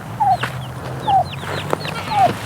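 A mother hen clucks near her chicks out in weedy ground, low repeated clucks with brief higher chirps of the chicks, three rounds in steady rhythm, close and clear over a faint background hum.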